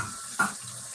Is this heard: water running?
yes